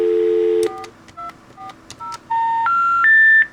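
A telephone keypad on a Cisco ISR phone system sounds a sequence of dialing tones: one long opening tone, then a run of short beeps, and finally several longer rising tones, clear and close, with no voices.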